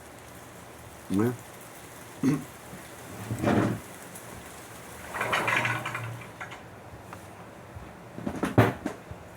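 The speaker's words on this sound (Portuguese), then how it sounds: "Me desculpe eu fechar a janela aqui que começou a chover." Rain falls steadily outside a window during the northern rainy season, a soft continuous patter with several louder bumps and rumbles scattered through, under a man's brief speech.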